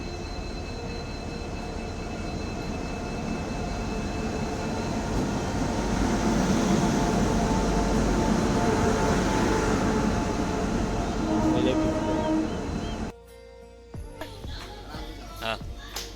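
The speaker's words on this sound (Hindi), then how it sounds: "इधर हमारा ट्रेन आ गया" A train pulls into an Indian railway station on a Humsafar Express journey, a loud sustained rumble of rolling wheels and carriages that cuts off abruptly near the end, leaving quieter clatter and ambient noise.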